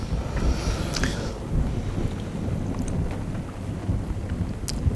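A stormy night with steady rain and low rolling thunder, a continuous wash of rainfall under rumbles and occasional faint cracks.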